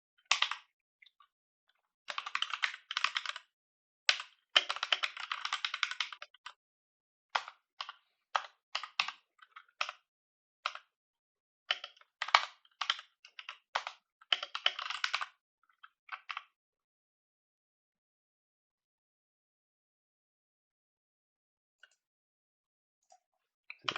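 Computer keyboard typing while writing Solidity code, in bursts of rapid close key clicks for about fifteen seconds with short pauses, then near silence with a few isolated taps.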